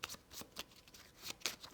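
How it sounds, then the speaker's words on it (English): A deck of cards is shuffled during a tabletop pirate board game. The riffle gives quick, papery flutters and soft snaps in short bursts. The sound is quiet and close, with no talk over it. "So we're going to shuffle those cards."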